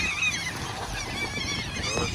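Birds honking on the Kingston waterfront, a continuous cluster of loud, nasal goose-like calls overlapping close by with busy outdoor background noise.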